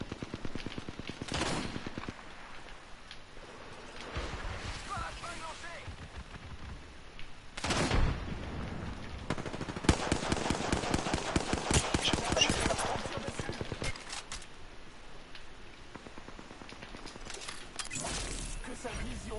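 Gunfire from Apex Legends crackles throughout, with sharp single shots and dense automatic bursts at varying distances, while a player talks over the battle.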